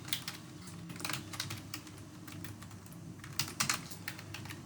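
Keys clatter on a computer keyboard while a formula is entered in an Excel spreadsheet, with light, uneven clicks in quick clusters, close by, over a low steady background hum.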